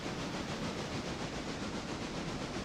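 A train pulls away in the railroad video game Railroader, giving a faint, steady hissing rumble with soft rhythmic chuffing and no voices.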